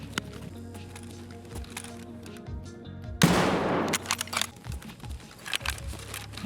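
Gunfire in the shooter game Escape From Tarkov, a sudden loud burst of shots that cuts into a low ambient hum, followed by scattered clatter and fainter follow-up noise.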